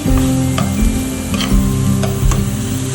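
Food fries loudly in a pan while being stirred, a close steady sizzle broken by scraping clicks of the spoon.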